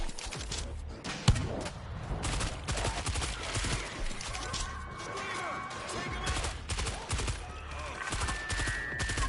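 Rapid automatic gunfire from an auto turret in the zombie shooter World War Z, set in flooded New York, rattles continuously with sharp bursts and a loud crack early on, amid chaotic game noise and shouting.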